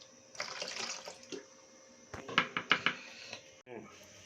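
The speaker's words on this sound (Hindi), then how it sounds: "अभी हम जो थोड़ा सा जो बकाया पानी था वो डाल लेंगे।" Water pours into a soup pot in a home kitchen while making hot and sour chicken soup, with a sustained splashing pour followed by a few sharp clinks of utensils against the pot.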